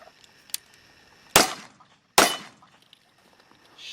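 Two sharp reports from a Springfield 1911 pistol, about a second apart, each with a quick decaying tail, standing alone over a quiet background.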